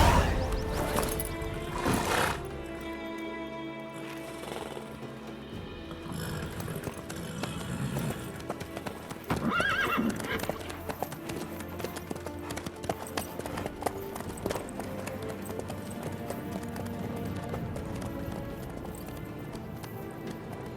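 Horse hooves clop at a gallop in The Witcher 3, a continuous rhythmic drumming under game music and ambient sound, moderately loud throughout, with brief voices near the start.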